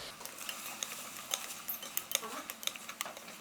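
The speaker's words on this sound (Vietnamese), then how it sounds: "Mình sẽ đảo cho nấm chín đều" Straw mushrooms, garlic and shallots get stirred in a pan, with a utensil scraping and clicking against the metal in irregular, close taps over a soft sizzling bed.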